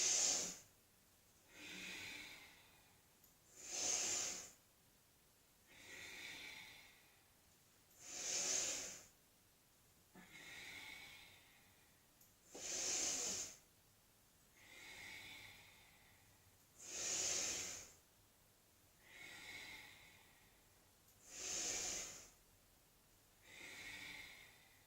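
Deep, rhythmic breathing during a Tibetan rites exercise: about ten slow, evenly spaced breath cycles, alternating sharp hissy inhales with softer exhales, close and steady without talk.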